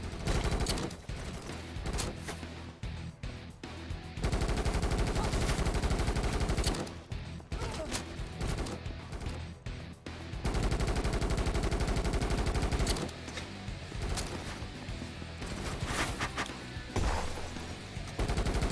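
Video-game gunfire in Kinki Spiritual Affairs Bureau: dense, loud bursts of automatic shooting rattle almost continuously, briefly thinning out before heavy volleys return, with no voices over it.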